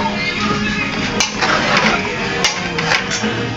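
A mixture is stirred in a bowl or pot, with a scraping, swishing stir interrupted by a few sharp clinks of the utensil against the rim. A faint voice sits in the background.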